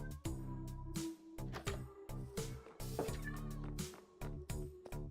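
Several cats in the video game Minecraft meow repeatedly over a thick, layered in-game music bed, with short bursts of mews rising and falling in close succession and no talking.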